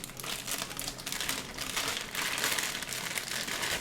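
Packaging being crinkled and unwrapped from a camera lens pouch for a Sony A7III, continuous close rustling and crackling plastic with uneven bursts, no voices over it.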